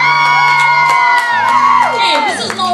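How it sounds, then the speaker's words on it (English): An audience at a slam poetry show cheers, whoops and shouts loudly and continuously, a dense, close wall of voices with sustained yells rising and falling. "Don't cheer though"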